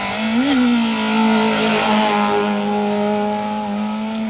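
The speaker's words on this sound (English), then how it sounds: "We were saying about the engine note in that Corsa earlier" A Vauxhall Corsa rally car passing on a forest stage at Sweet Lamb during the 2024 Phil Price Memorial Woodpecker Rally, its engine a loud, steady, buzzing note that rises slightly, then holds and fades gently as it goes by.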